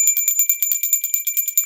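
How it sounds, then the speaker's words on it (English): A small bell rings in rapid, continuous trills, a bright metallic ringing that repeats many times per second for under two seconds, close and clear with no voices. "I found my bell."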